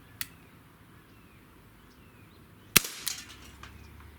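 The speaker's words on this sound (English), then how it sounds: "But anyway, let's do 5 shots." A Gamo PT-80 air pistol fires a single sharp crack followed by a short clattering tail, with a faint click earlier amid quiet outdoor background.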